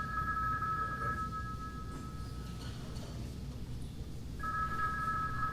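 A mobile phone rings from inside a purse, its electronic two-tone trill repeating steadily at moderate volume, pausing briefly and then resuming over a room's background murmur.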